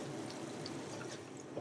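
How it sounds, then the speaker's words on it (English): Seafood paella simmering in the pan on residual heat after the burner is switched off, a soft, steady bubbling hiss with faint little pops, quiet and close, no talking. "It's just bubbling away with the residual heat."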